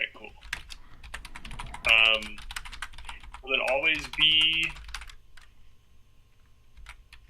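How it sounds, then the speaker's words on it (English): Clicks of a computer keyboard tap out in quick irregular bursts, close and fairly soft, while a person talks over them. "I'm typing it out."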